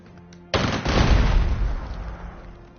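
Video game gunfire in a wartime strategy battle: after a quiet lead-in, a sudden heavy burst of shots and booms erupts and rolls on in a dense, loud barrage before slowly thinning out.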